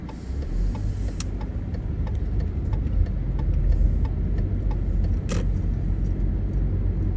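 A car driving down Washington Avenue in Endicott, with a steady low road rumble and tire noise from inside the vehicle plus occasional small ticks and rattles, continuous and close, no talk.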